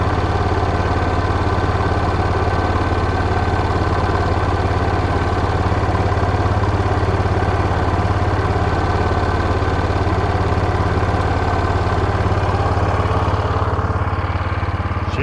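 A Jeep engine idles steadily at close range, a continuous even rumble with a slightly fast idle that holds without change for the whole stretch and carries no talk.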